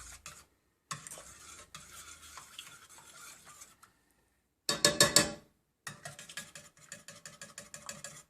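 A spoon stirring vanilla paste into a panna cotta mixture in a pan, scraping and swishing in uneven strokes with short pauses and one louder clattering burst, no voices.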